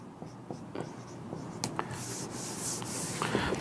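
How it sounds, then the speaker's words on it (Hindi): Marker or chalk scratching across a board while working a percentage math problem, short rubbing strokes in quick irregular bursts, close and fairly quiet, no talk. "इसको यहाँ लिख लेते हैं।"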